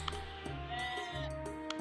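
Sheep bleating in the farming game Equilinox, a few short wavering calls over a steady ambient music bed, fairly faint and with no talking.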